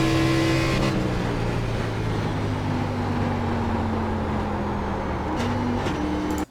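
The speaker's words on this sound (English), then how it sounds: "I was so clenched on the wheel that I accidentally shifted right back into fourth after shifting into third" An ARCA race car in a racing video game at Gateway, loud steady engine drone with pitch drops and jumps as gears shift down and up, continuous and close, with no talk.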